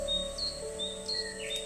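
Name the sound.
birds chirping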